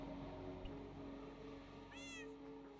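A single short meow from a cat in a video-game cat cafe rises over a steady droning game background, fairly faint and alone.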